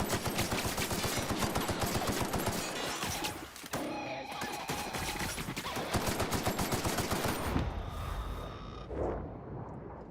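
Dense, continuous gunfire from Battlefield 2042, rapid automatic bursts and crashing impacts layered loudly for the whole stretch, with a brief lull near the middle and a fade toward the end.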